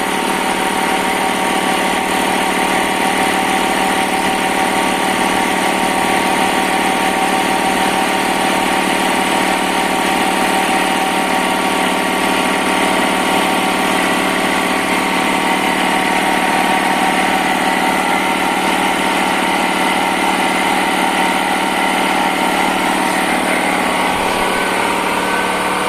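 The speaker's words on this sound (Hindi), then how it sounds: "ये हाई स्पीड कंप्रेसर, ये देखें कैसे सुई लेके जा रहा है ना, आगे प्रेशर हवा बना रहा है।" A 3HP INGCO air compressor with a 100-litre tank runs nonstop, its motor giving a loud, steady, high-pitched mechanical whine and hum as it builds pressure.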